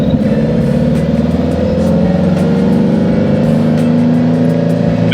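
A 1964 Baja Bug with a new Ace Racing engine and FK7 cam revs loud and close. Its air-cooled engine has a throaty, pulsing note that rises and settles with the throttle, and no one speaks over it.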